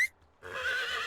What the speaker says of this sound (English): Let's go ahead and call my horse.